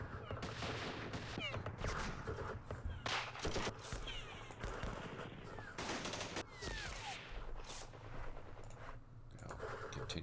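Repeated gunfire and explosions in the Vietnam War strategy game Campaign Series Vietnam, at the Battle of Ap Bac: dense bursts of shots and blasts over a steady background rumble, with faint voices underneath.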